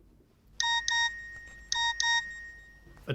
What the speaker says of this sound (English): A text message.